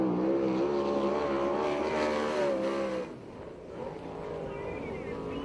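A USAC/CRA sprint car roars around the Perris track on its first qualifying lap, a loud sustained engine drone that dips and swells as it moves through the turn.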